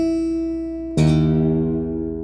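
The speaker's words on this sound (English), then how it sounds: "That's an E. And they call this lowest string the E string." A guitar's low E string in standard tuning rings out after a brief sustained tone. A single loud plucked note rings and decays slowly with rich overtones.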